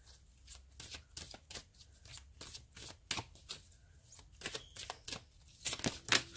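A deck of oracle cards being shuffled by hand, quick irregular riffles and slaps of card stock, close and fairly quiet, with no talking.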